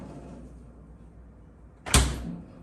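A refrigerator door, its hinges just reversed to swing the other way, thumps shut in one short, solid knock after a quiet stretch of low room noise.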